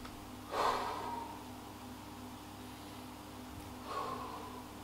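Two slow, breathy exhalations during a yoga stretch, each a soft rush of air a few seconds apart, close and quiet with no talking.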